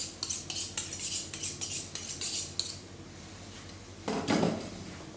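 A butchering knife for a roe buck clatters and scrapes against metal and a hard surface in a rapid series of light clinks, then a single duller thud as it is picked up, close by.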